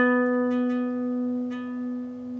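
A single guitar note picked on the 9th fret of the D string sustains with a gentle vibrato, ringing clearly and close, alone with a few faint string noises, slowly fading.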